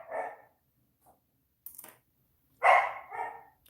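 A pet dog gives a few sharp, separated barks and yips, fairly close, in a quiet room with gaps of silence between them.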